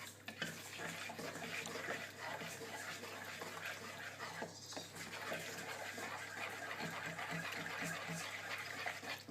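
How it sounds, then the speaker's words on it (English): Plaster being mixed with a fork for a DIY ant nest, a continuous wet scraping and sloshing close by, fairly quiet, with a low steady hum underneath and a brief louder scrape near the middle. "you can feel when you mix with a fork, you can usually feel the plaster bashing against your fork"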